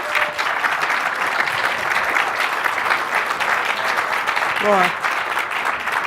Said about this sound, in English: I'd like you to give a little round of applause and a bit of cheer and joy to wake yourselves all up